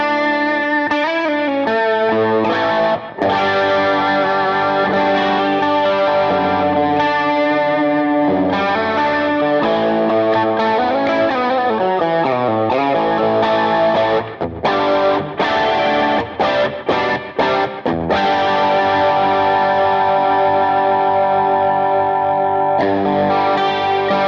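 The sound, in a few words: guitar through AmpliTube 5 chorus pedal and post effects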